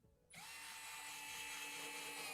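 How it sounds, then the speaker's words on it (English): An electric screwdriver with a built-in clutch starts abruptly and whirs steadily up close as it drives a screw into a rotor mechanism part. "I'm using this electric screwdriver because it's bomb"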